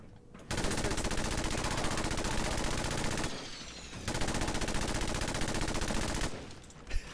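Automatic gunfire in Fallout 4, two long sustained bursts of rapid shots separated by a short pause, loud and dense, with a final single shot at the end.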